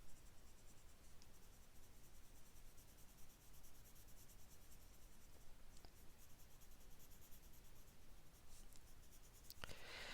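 Colored pencil worked on its side across paper, a faint, steady scratchy rasp of shading strokes that runs continuously, with a brief sharper scrape near the end.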